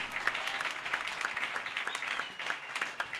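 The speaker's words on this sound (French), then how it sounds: "Est-ce qu'on peut acclamer le Seigneur?" A church congregation claps steadily for the Lord, with many hands in dense, sustained applause and a few voices faintly underneath, filling the room evenly for several seconds.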